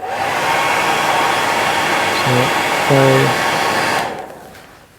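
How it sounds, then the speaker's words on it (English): A hairdryer blows steadily and loudly on a Stinchar Stoats Tail salmon fly, a broad continuous whoosh with a voice briefly speaking over it before the blower cuts off near the end. "I'm going to blow it with the hairdryer"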